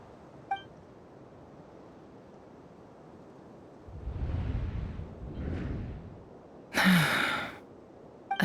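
A short, sharp gasp from Yehuda, a character in Genshin Impact, breaks a mostly quiet stretch. It follows a soft breathy rush a few seconds earlier.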